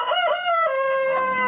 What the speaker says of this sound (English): We have a chicken in our house.